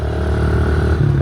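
A friend's pit bike engine runs steadily at close range, a low rumbling drone with a slight rise in pitch near the end.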